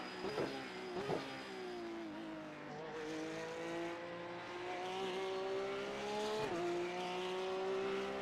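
Race car engine in the iRacing sim racing game, a steady tonal drone whose pitch climbs and dips with gear changes and corner braking, with brief rough bursts near the start, loud and continuous with no talk.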